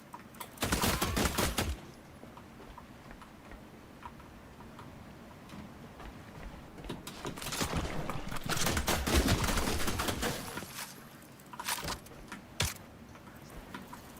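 A gun fires in the video game The Last Caretaker, letting off a sharp burst at the start, then a longer sustained rattle of rapid shots in the middle and a few quick bursts near the end, with quiet gaps between.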